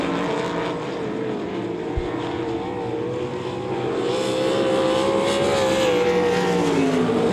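Race cars roar around the oval at Devil's Bowl Speedway, a dense, loud engine drone holding steady throughout as the field runs close together, with a single sharp thump near the start and no voices.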